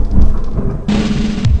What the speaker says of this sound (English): And now the thunder is shaking my apartment.